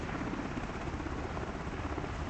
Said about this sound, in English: That's a real aircraft.